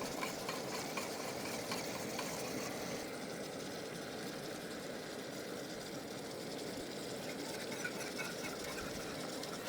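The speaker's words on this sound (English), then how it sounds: "Got the gravy cooking here, got some sausage cooking." Sausage and gravy cooking in a pan at a truck campsite, giving a steady low sizzle and bubbling stir that runs evenly and close throughout, with no talk.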